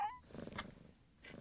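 A cat purrs softly in the PS2 game Shadow of Destiny. The rumble is quiet and pulsing and carries through a short stretch with faint background noise.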